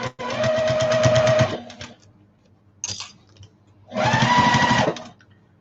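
A sewing machine top stitches a fabric shopping bag in two loud, rapid runs of steady needle clatter, separated by a pause with a brief click, close up and with no voices.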